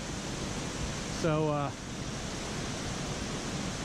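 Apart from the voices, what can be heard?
waterfall in Linville Gorge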